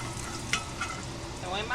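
A large garlic clove hits a little oil in a hot pan, sizzling softly with a few sharp stirring scrapes and crackles, quiet and close.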